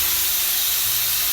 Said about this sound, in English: I use my spoon to hit the pressure button